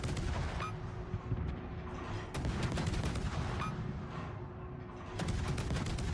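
Naval gunfire in World of Warships, with repeated deep booming salvos at irregular intervals over continuous rumbling battle noise, loud and close.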